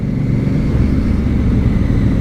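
A Honda CRF1000L Africa Twin motorcycle engine hums steadily and loudly while riding through a gear change, a continuous low droning rumble with wind noise and no clear clunk or break.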